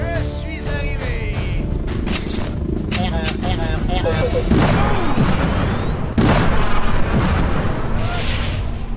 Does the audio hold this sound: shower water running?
no